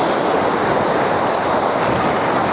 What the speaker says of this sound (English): The tide is really coming in.